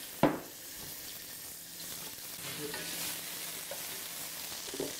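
Pork pieces frying in a little oil in a pan for a paleo stir fry, a steady soft sizzle with a couple of brief clinks and crackles, close and alone.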